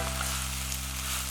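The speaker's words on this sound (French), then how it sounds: "J'ai alors aussitôt snacké les noix de Saint-Jacques au beurre de micelle" Scallops searing in butter in a hot pan, seasoned with Espelette pepper, giving a steady, even sizzle close by with a constant low hum beneath and no voices.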